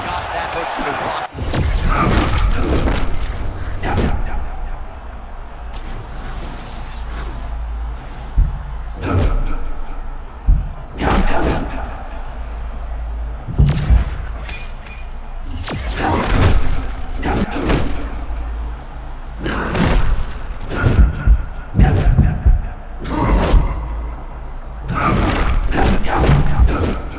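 Heavy body-shot punches land in a UFC 6 fight, a string of deep, dull thuds in irregular bursts over nearly half a minute, some single and some in quick flurries, under ongoing commentary.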